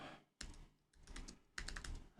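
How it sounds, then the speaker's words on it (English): Quiet keystrokes on a laptop keyboard come in short bursts of soft clicks with a brief pause between them, close but faint. "then you just start typing about your day"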